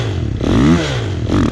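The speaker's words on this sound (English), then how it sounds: "we're going to do a little drag racing" Snow bikes, a Timbersled and a Yeti, rev hard in an open meadow before a drag race, engines rising and falling loudly and close with a throaty mid-range roar and a second surge near the end.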